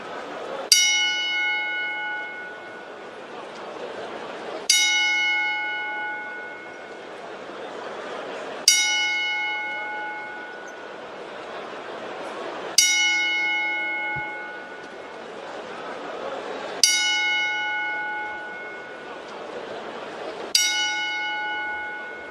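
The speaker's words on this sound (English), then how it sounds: "give a 10 bell salute to the immortal Hulk Hogan" A ten bell salute tolls in tribute to wrestler Hulk Hogan, six evenly spaced bright metallic bell strikes so far, each ringing out and decaying before the next, heard clearly without talk.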